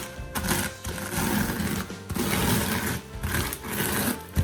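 Continuous dense crunching and grinding as tortilla chips are crushed with a rolling pin, loud and close in steady waves with short pauses between passes.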